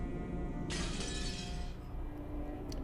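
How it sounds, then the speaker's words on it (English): A teacup smashes on the floor in the Umineko visual novel game, giving a single bright crash of shattering ceramic that rings out for about a second over a steady low background. "A teacup on the table smashed on the floor, making a violent sound."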